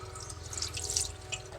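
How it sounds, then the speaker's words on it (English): Gasoline poured from a cup into the heads of a 1978 Ford F-150 engine to flush them, a brief close trickle and splash of liquid. "I dumped a little bit of gas in this cup here. So we're going to pour that down"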